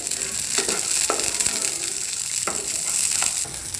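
Green peas roast in a spoonful of oil in a pan, giving a steady close sizzle with a few sharp stirring scrapes and clicks and no talking.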